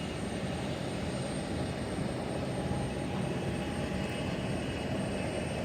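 Busy night-time airport ambience at CMH, with a steady, loud wash of aircraft engine roar filling the scene without letup and no voices.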